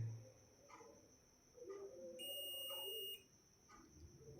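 A digital multimeter in continuity mode sounds a steady electronic beep for about a second while its probes test relay contacts. The tone is clear and close against a quiet room, with a few faint handling clicks around it.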